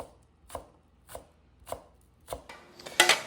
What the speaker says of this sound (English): And then just thinly slice both the white and the green.